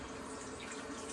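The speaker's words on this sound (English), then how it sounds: "So just adding a little bit water." Tap water runs steadily into a sink while a straight-razor kamisori shave is being prepared, a soft continuous wash of faint, even splashing with no talking.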